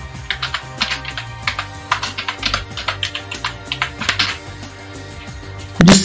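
Quick, light taps of a computer keyboard as a company name is entered in Tally.ERP9, arriving in uneven bursts of close, crisp keystrokes before a brief pause and a final heavier tap.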